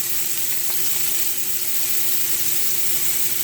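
Scallops sear in a hot pan with a loud, continuous sizzle and hiss that holds steady throughout, with no voices.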